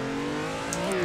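Steady engine drone of a car drifting in the Assetto Corsa racing game, holding a continuous loud tone that rises slightly in pitch near the end, with a brief high squeal.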